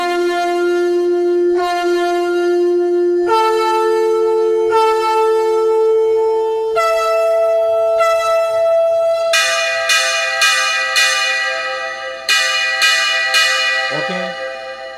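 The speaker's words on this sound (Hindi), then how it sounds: "शंख, हर स्केल का शंख है" A conch-shell voice on a Roland XPS-10 keyboard sounds sustained, horn-like tones at changing pitches played in several long notes, then bright repeated bell-like strikes toward the end, close and loud with no talking.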